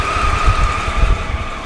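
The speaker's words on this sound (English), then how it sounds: "Okay, the bike successfully started." An old motorcycle's engine catches and runs with a low, uneven rumble and throbbing pulses, loud and near, with no talk.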